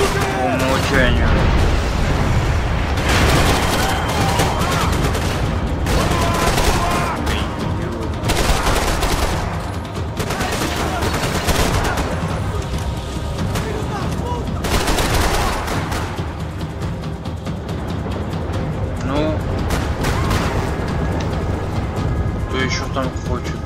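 Automatic weapons fire in a Max Payne 3 gameplay firefight, coming in loud, rapid bursts and booming shots that repeat throughout with only brief lulls. Someone talks now and then over the shooting.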